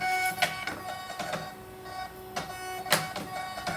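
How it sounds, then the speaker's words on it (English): A thermal label printer runs off shipping labels, giving repeated short mechanical whirring bursts with clicks in an uneven rhythm, close by with no talking. "I think this is like a thermal printer or something like that"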